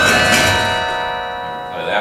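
Carillon bells ring out in a sustained, shimmering chord whose overtones slowly die away, loud and close, with a fresh strike near the end.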